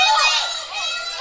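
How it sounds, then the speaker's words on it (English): Crowd at a swimming club championship gala cheering and shouting, with children's voices prominent, rising as a close race nears the wall; continuous busy roar throughout, swelling again at the end. "The crowd is starting to heat up."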